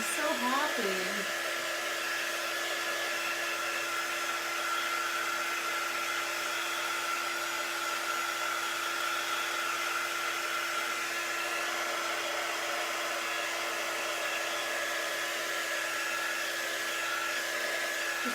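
Hair dryer blowing steadily on a handmade Christmas wreath decoration, a loud continuous whooshing motor hum held close for the whole stretch, with a brief faint sound at the start and no talk.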